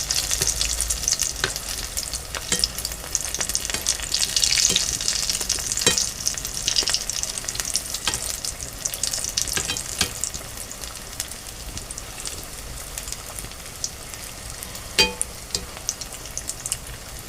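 Vada pav vadas sizzle steadily in hot oil while being turned, a dense continuous frying hiss with occasional crackles and soft scraping taps from the turning utensil.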